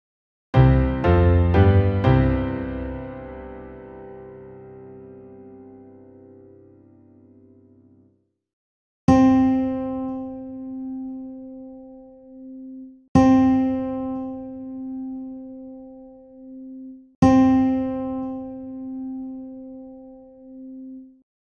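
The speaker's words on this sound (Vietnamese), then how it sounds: "Cao độ vừa nghe là nốt Đô." The ear-training note C sounds three times as a clear pure tone after an opening piano-like chord fades, each repetition struck cleanly and sustained about four seconds, alone with no talk.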